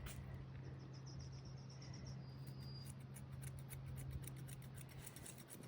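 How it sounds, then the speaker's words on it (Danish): Thinning scissors snip through a puppy's fur close to the face in a run of quick, light, rapid metallic clicks, close up and fairly faint over a steady background hum, with no talking. "Så er vi kommet til effilersaksen."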